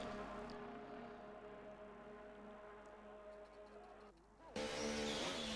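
Formula One race cars in an esports racing game pull out onto the track, a steady engine drone with tonal whine that drops away briefly before a louder engine surge rises near the end.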